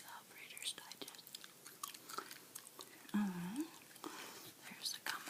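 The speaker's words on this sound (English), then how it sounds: "There's the gum I'm chewing today, by the way. Trident chewing gum. Excuse me, bubble gum." Trident bubble gum is chewed softly and close with wet, sticky mouth clicks and smacks, while a quiet whispering voice talks over it.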